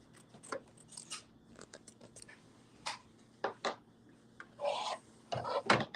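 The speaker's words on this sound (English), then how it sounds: "I'm going to trim up some threads" Scissors snip and trim loose threads on quilt fabric in a quiet room, a series of short, sharp crisp cuts and rustles coming irregularly and close up, with no talking.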